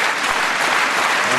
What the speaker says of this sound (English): And crowd clapping there in support of a jump going on in the meantime